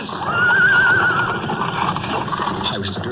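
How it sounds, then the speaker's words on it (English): Horse whinnies sharply and loudly near the start, followed by clip-clopping hooves and rumbling carriage wheels as horses pull a carriage, a dramatized street-scene sound effect. "Driver, rein in your horses!"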